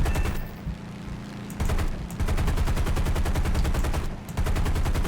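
An F6F Hellcat's machine guns fire in War Thunder, long continuous rattling bursts broken by two brief pauses and heard loud and dense over engine drone.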